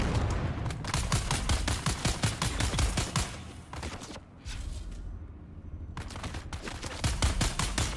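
Rapid automatic gunfire in the Dune video game while shooting a heavy weapon crew, fast dense bursts of shots close and loud, pausing briefly midway before the firing resumes.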